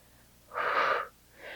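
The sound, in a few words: exhaling breath during side plank Pilates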